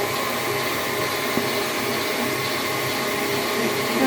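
A stand mixer whipping egg whites for robin egg macarons, a steady loud motor whir with a broad whooshing hiss and no pauses, running alone without talk.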